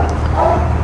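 A dog at a training session gives one short, close bark-like yip over low background rumble, alone with no talk.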